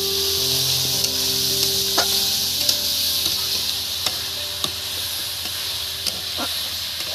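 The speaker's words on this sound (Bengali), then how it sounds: "এই যে কুচি কুচি করা পেঁয়াজটা দিয়ে দিচ্ছি।" Chopped onion going into a hot pan for pepper chicken: a continuous bright sizzle with soft scattered clicks from stirring, close and steady, no voices.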